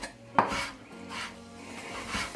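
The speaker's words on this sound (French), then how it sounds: "on va les hacher un petit peu" A knife works through tomatoes on a board, making a scraping, rubbing cut with a sharp knock near the start and another at the end, close and moderately quiet, with no talking.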